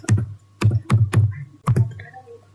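Short bursts of typing on a computer keyboard, several quick clustered keystrokes in four groups with brief pauses, close and clear with no talk.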